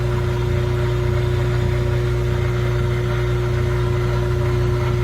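Frigidaire laundry center washer motor running with a steady, loud hum and strong low tonal drone, a constant mechanical whir throughout with no talking.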